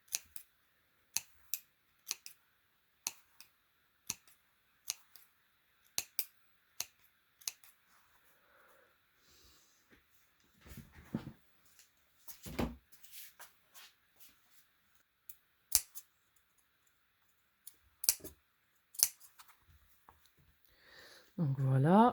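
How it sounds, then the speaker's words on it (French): Fabric scissors notching the rounded edges of a sewn heart-shaped cushion, a series of crisp, close snips in a loose rhythm, with someone speaking French between the cuts. "Et tout autour, on va cranter comme ceci."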